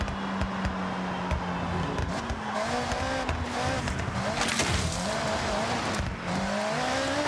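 A car on off-road tyres drives cross country in the racing game Forza Horizon 6, its engine droning and rising and falling in pitch through gear changes, with scattered tyre scrabbles and bumps, loud and continuous.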